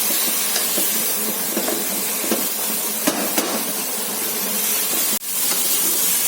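Carrots sizzle in a hot pan as they brown, a steady broad hiss with occasional small pops and clinks, close and loud with no talking.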